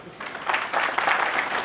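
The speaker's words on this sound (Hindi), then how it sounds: "मैं लड़कियों से नहीं बल्कि पेरेंट्स को ये कहूँगा कि आप अपने लिए ताली बजाइए" Audience at an award ceremony, the Kalpana Chawla award event at a college, breaking into sustained applause, a dense steady patter of many hands clapping that swells after a brief moment and holds loudly throughout.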